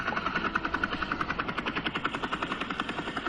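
Helicopter rotor in the F1 24 racing game during a Bahrain Grand Prix sprint broadcast shot, a steady rapid chopping pulse with engine drone running throughout the whole stretch, fairly loud and constant.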